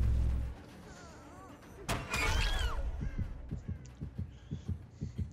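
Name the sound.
heartbeat sound effect in Dead by Daylight video game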